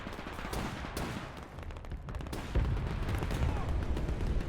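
Battlefield gunfire in Men of War II: rapid overlapping shots and machine-gun bursts, joined by a heavier booming blast midway, with faint voices mixed in.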